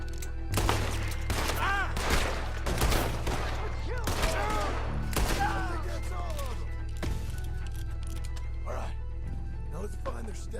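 Rapid gunshots in the Red Dead Redemption 2 video game crack out in a quick string of sharp reports, with game characters talking in between and the firing thinning out toward the end.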